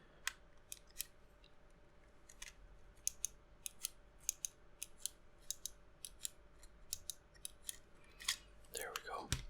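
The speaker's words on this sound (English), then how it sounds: "First thing I'm gonna do is remove the memory card." A memory card is worked out of a PSP handheld console with a run of crisp, quiet plastic clicks and ticks in an irregular rhythm, ending in a louder rustling handling noise.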